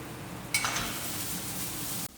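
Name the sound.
ginger, chilies, mushrooms, carrots and corn frying in a pan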